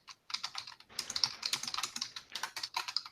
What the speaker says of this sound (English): Someone's typing.